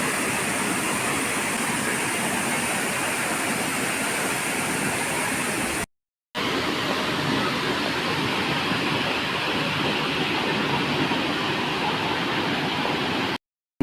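Hundru Falls roars as a constant, dense rush of falling water, close and loud, broken only by one very short gap.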